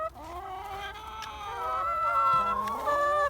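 Backyard hens cluck and squawk in a rising, agitated chorus as their eggs are taken from the nest box, several birds close by, loud and continuous with no talking.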